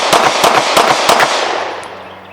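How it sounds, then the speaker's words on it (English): Several sharp gunshots from a PTR Archon B Gen 2 pistol fire in a quick, evenly spaced string, loud and close, followed by a fading echo. "Whew, that's a smooth shooting gun."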